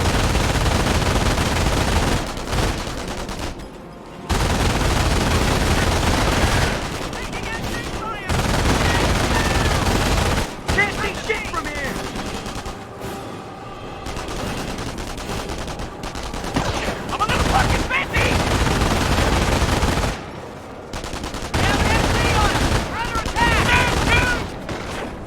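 Heavy machine-gun fire rattles in rapid sustained bursts amid a World War II battle in Company of Heroes, with fusillades and gunshots layered together and brief pauses between bursts, while soldiers shout under the din.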